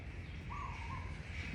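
A small bird gives a brief chirping call, faint against steady background noise, with no talking.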